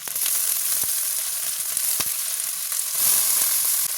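Potatoes and fish sizzle steadily in a frying pan, a dense continuous crackle with a few sharp pops and some stirring, with no talk over it.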